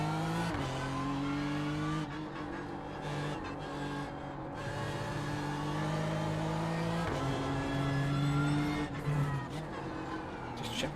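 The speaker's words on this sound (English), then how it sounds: "I think the car's louder when you're watching the replays" Race car in a sim racing game replay, its engine whining steadily with shifting pitch as it accelerates and changes gear, with tyre noise underneath, loud and continuous without speech.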